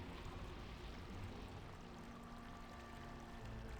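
Water cascading from a sculpted fountain in a room of Baldur's Gate 2, a soft continuous splashing and pouring that stays faint and even throughout, with no voices.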